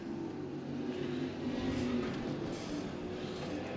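A 2.5 race car engine running up the back straightaway of an oval track, a steady roaring drone that swells slightly midway, heard from a distance with no voices.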